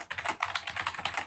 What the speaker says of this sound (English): Somebody's keyboard is very loud.